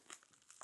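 A worn craft knife slices away packing tape, a brief burst of crinkling and tearing, quiet and close.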